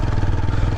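A motorbike ridden at moderate speed on an Indian road, its engine a loud, continuous low throbbing drone very close by, with steady wind rush over it and no talk.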